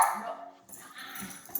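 A dog named Zoe, just let in from outside, gives a sharp close bark and then yips and whimpers excitedly indoors.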